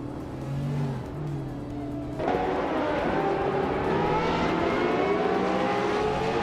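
A 1998 Lotus Tiga Esprit in a racing game drives amid the pack, its engine droning steadily and then rising in pitch after a shift, loud and continuous with other cars audible alongside.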